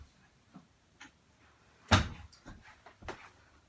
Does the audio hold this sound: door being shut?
yes